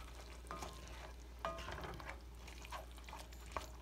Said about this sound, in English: I add my tomato sauce. I'll mix that in.